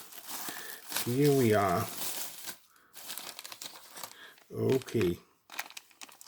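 A blade slices through crinkly packaging around a 3D printed model in short crackling bursts, with rustling and tearing between them as a voice speaks briefly nearby.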